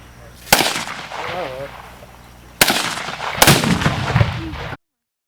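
Gunshots at an outdoor shooting range: three loud, sharp reports, one early and two close together later, each followed by a rumbling echo tail, with faint background sound between them.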